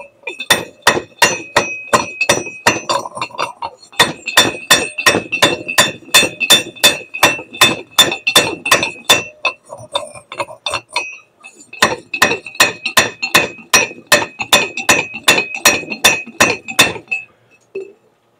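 A hammer repeatedly crushing MLCC ceramic capacitors, giving sharp, loud glassy clinks in a steady fast rhythm, dozens of strikes in runs with two short pauses, close and ringing.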